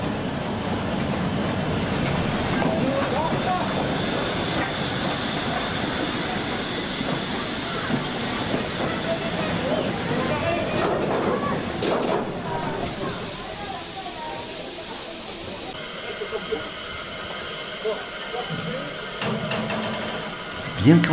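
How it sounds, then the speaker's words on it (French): A restored century-old, 60-tonne steam locomotive hauls varnished wooden carriages, giving a loud, sustained rumble of rolling wagons with steam hiss and spray, changing texture near the end as a bright hiss bursts in. "En crachant sa fumée noire, la locomotive, plus que centenaire, va entraîner les voyageurs installés dans les wagons en bois verni"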